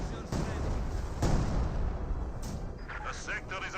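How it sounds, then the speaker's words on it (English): An artillery barrage slams down in Company of Heroes 2, with heavy, close booming impacts and rumbling blasts layered over continuous battle noise while a caster talks over it. "With a barrage just hitting right there."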